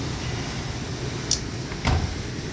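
A metal access door panel is fitted back onto a Lennox heat pump air handler, giving two brief, close clunks about half a second apart over a steady low mechanical hum.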